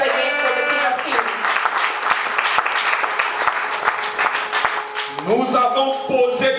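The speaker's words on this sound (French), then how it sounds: "Let's clap again for the King of Kings." An audience claps together at a religious gathering, dense sustained applause filling the space, with voices and a shout over it at the start and end.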